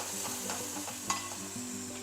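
Masala paste and whole spices frying in a pan for a chicken gravy curry, a steady close sizzle with soft stirring scrapes and a brief sharp clink near the middle, no voices.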